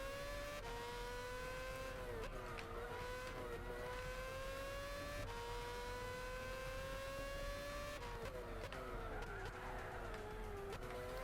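Race car engines from the Gran Turismo 6 racing game on PS3 drone and rise in pitch through gear changes, with some tire skidding, loud and continuous across the whole stretch.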